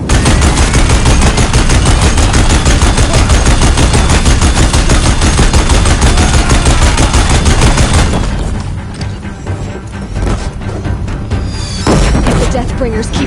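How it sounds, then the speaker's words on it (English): Rapid, loud machine-gun fire from Deathbringer machines in Horizon Zero Dawn Remastered on PS5 rattles in a dense continuous burst for about eight seconds, then thins to scattered shots and rumbling, with voices mixed in. "If the Deathbringers keep firing, this bridge will go"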